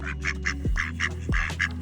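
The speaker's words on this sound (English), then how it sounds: "Oh my gosh, the ducks are going nuts." Several ducks on the roof of a narrowboat quack in quick, close bursts, a rapid series of nasal calls with a couple of low thumps between them.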